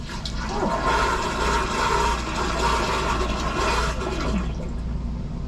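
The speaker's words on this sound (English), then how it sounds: "When you flush," A toilet in a Newmar Ventana RV flushes with a loud, steady rush of water lasting several seconds before tapering off, close and clear.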